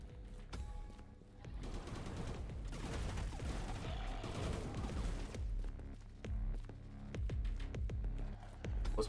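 Repeated shotgun blasts in the video game Into The Pit, loud booming shots over a dense, rumbling bed of game effects and music, arriving in several bursts across the stretch with no voices.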